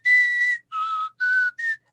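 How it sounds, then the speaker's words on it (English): A person whistles a few phrases of the Rocky theme: four sustained whistled notes in a clear melodic run, close and alone, with short gaps between them. "we would sit and whistle parts to each other of Rocky"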